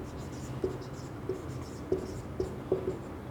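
Chalk or marker writing numbers on a board during a Hindi math lesson: soft scratchy strokes with several distinct tapping accents spaced about half a second apart, faint under a quiet room background.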